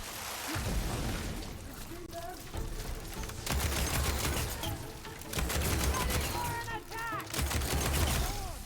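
Combat in Horizon Forbidden West: sustained bursts of gunfire-like shots and explosive blasts layered over a constant roar of battle noise, loud and dense, with some faint voice-like calls mixed in.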